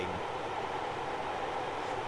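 A Mk1 passenger coach rolls over jointed track in Train Simulator 2020, giving a steady, moderate rumble with a faint low thump from the bogie near the start, and no talking.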